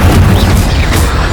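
In the video game Hogwarts Legacy, an Incendio fire spell goes off as one loud, booming blast with a roaring burst that rumbles and fills the moment, with no talk over it.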